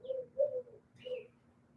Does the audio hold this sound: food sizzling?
no